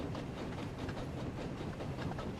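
A goods train in the Thomas & Friends: Wonders of Sodor video game rolls through a station with a continuous rumbling, rhythmic clatter and a faint hiss, steady and fairly close throughout.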